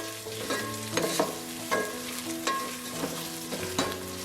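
Ginger garlic paste and curry leaves sizzle in hot oil for Ankapur chicken curry while a spoon stirs, giving repeated scraping clinks over a steady frying hiss, close and fairly loud.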